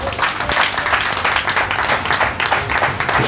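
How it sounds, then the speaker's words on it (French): An audience at an agency opening ceremony in Lokossa breaks into sustained, dense applause, many hands clapping at once in a loud, steady roar, with a faint voice underneath. "Je vous prie d'acclamer."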